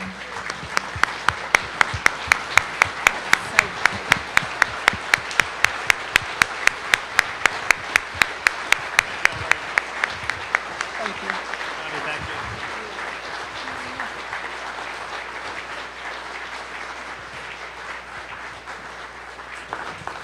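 An indoor crowd in Corpus Christi, Nueces County, applauds as the Texas Governor is introduced, with loud rhythmic unison clapping that fades into scattered applause while a voice speaks over the end.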